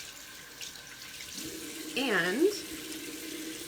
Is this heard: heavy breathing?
no